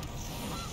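Goose honk sound effect from the Gilded Goose card in a digital card game, a short, steady honking burst over a dense game soundscape, fairly quiet throughout.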